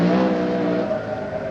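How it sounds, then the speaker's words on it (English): Tony Pond's rally car, a Triumph TR7 V8, roars past at speed, its engine note loud and sustained before slowly easing as it moves away. "This is the car that has been fastest so far in the hands of Tony Pond."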